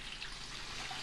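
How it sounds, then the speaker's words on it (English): Water poured over a beef brisket sitting in brine, a soft continuous splashing and trickle, brief and fairly faint. "So then we're just going to cover it with some water."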